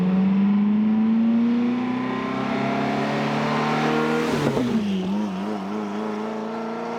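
SSC Tuatara hypercar engine revving during warm-up, a loud steady high-pitched drone that climbs slowly, dips sharply midway, then settles back into a wavering idle, with no talking.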